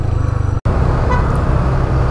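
Steady roadside traffic rumble in the Philippines with a brief dropout, cars and buses passing close by and a faint short horn toot, no talk.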